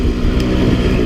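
A Sherco 300 SE-R dirt bike engine roars loud and close in a brief, dense, rough burst of steady motor noise, with no talk.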